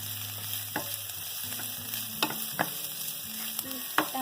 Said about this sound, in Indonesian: kita saute sampai dia layu.